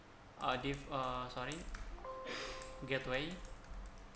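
Cisco configuration commands being typed on a computer keyboard make quick, light key clicks running under a man's steady speech.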